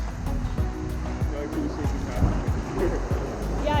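Ocean waves surge and wash around Benagil Cave on the Portuguese coast, a close, continuous churning of water with repeated rhythmic slaps and splashes against rock or a boat.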